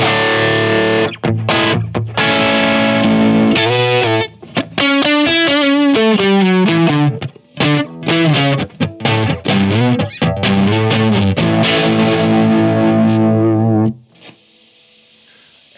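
Electric guitar played through a Vox MV50 Brian May amp with the gain turned up, giving loud, heavily distorted chords and sustained melodic lines with short gaps. It stops cleanly near the end.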